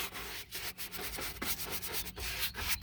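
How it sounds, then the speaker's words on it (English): Sanding a carbon fiber door panel on a 3000GT VR4, a steady back-and-forth abrasive rasp in rhythmic strokes, close and alone with no talk. "I'll be able to sand this a little bit"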